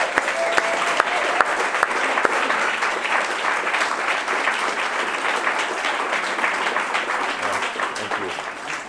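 An audience at a theatre talk bursts into sustained applause, dense and loud clapping holding steady for several seconds as a guest speaker is welcomed, with faint voices mixed in.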